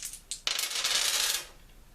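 Dice rolled across a board during a board game: a couple of light taps, then a bright rattling clatter lasting about a second before settling, close and alone.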